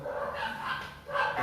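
Several dogs barking somewhere outside, a muffled, somewhat distant chorus of yips and barks in two bursts with a brief lull between.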